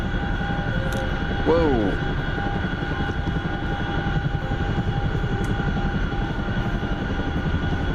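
A helicopter drones steadily overhead for the whole stretch, a dense pulsing rotor rumble with a constant engine whine, while a voice briefly exclaims early on.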